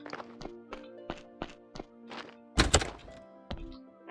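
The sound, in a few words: gate noise in the video game Graveyard Keeper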